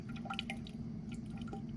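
Water poured over a stained microscope slide in a lab, trickling and dripping off the glass: faint, soft splashes and small drips over low background noise, brief and close.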